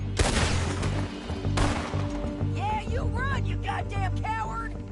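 Gunfire in the Western game Red Dead Redemption 2, two sharp, loud shots about a second and a half apart, followed by rapid chirping, whistling tones and voices speaking.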